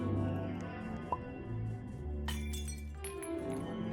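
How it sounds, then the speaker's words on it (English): Glass smashed with a hammer in a video game, a single sharp shattering crash with bright tinkling shards trailing off, heard over steady low game music. "we're gonna head inside so that we can break the glass"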